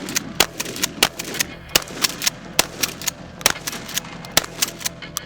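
Rapid bursts of shots from a Mossberg 590A1 12 gauge pump shotgun firing buckshot, sharp repeated cracks about once or twice a second over a busy background, with no voices.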